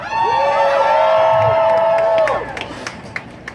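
Rally crowd at an International Women's Day gathering in Seattle cheering and whooping loudly in a sustained roar with high shouts, then fading to scattered claps and calls toward the end.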